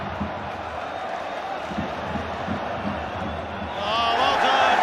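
A football stadium crowd at the Fiorentina v West Ham Europa Conference League final, deep in added time, keeps up a steady roar that swells louder toward the end.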